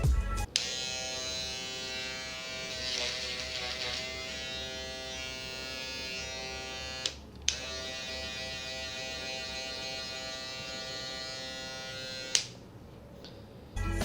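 An Andis cordless hair clipper running steadily, a close, loud electric buzz with a strong humming tone held for over ten seconds, briefly interrupted by a couple of quick clicks or switch-offs near the start, middle and end.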